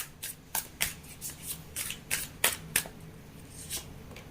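Tarot cards are shuffled by hand in a quick run of crisp riffling bursts, about a dozen sharp flicks at an uneven pace, close and fairly quiet, with no talking.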